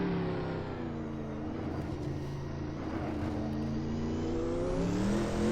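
A Group C race car engine in a sim racing game, a loud sustained drone that climbs steadily in pitch as the car accelerates, heard alone without talk.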